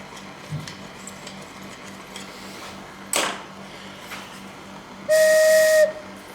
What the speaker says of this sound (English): I can't say that sounds the best note in the organ